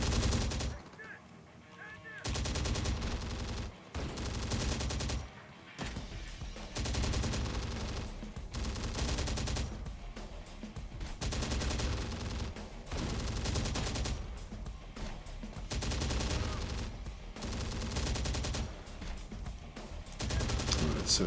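Machine gun fire erupts in the combat game Terminator: Dark Fate Defiance, loud bursts of rapid shots repeating every second or two across about twenty seconds, broken by brief pauses.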